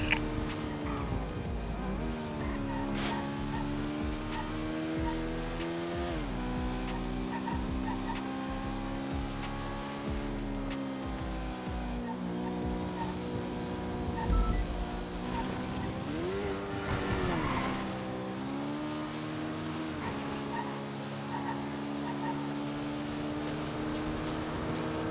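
A Rancher vehicle driven in a video game, its engine droning and shifting pitch as it accelerates, with occasional tire squeals and skids.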